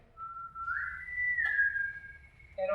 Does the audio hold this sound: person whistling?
yes